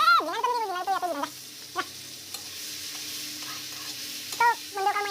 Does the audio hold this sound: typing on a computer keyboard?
no